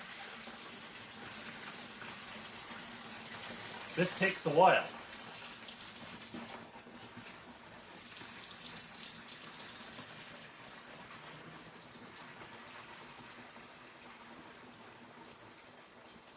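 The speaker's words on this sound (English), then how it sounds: "And I'm going to pour." Steady pouring of 23 liters of liquid during home fermenting, a continuous watery gush with a brief louder splash early on, close, while a person speaks briefly.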